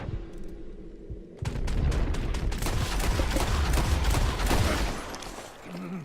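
Dense volley of gunfire in a Red Dead Redemption 2 shootout, rapid overlapping shots and booms bursting in loud after a quieter opening second and continuing steadily to the end.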